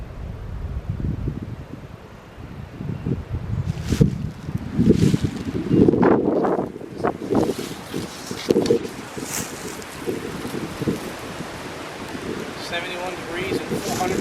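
Gusting wind buffets the microphone in a Kentucky woodland during a public-land turkey hunt, loud rumbling surges rising and falling for several seconds, with brief voices in the middle.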